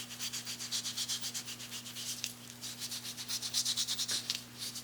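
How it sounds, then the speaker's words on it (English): Steady rhythmic rubbing of gold leaf over plastic fruit, a soft brushing friction repeating in quick even strokes, close and fairly quiet under a constant low electrical hum. "So I just rubbed gently all over and around all the fruit"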